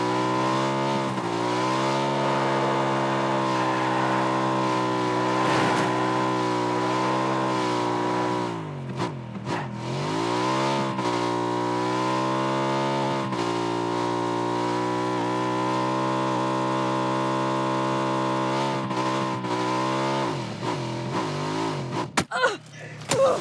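A car in PUBG revs hard and drifts, its engine a loud harmonic whine that rises and falls with shifting pitch over a long stretch, dipping sharply mid-slide before climbing again, ending in clatter.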